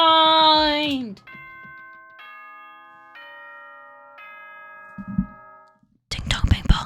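The Danganronpa video game's school announcement chime plays a slow descending sequence of clear bell tones after a voice, followed by a short thump and then more speech.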